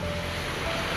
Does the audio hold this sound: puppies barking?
no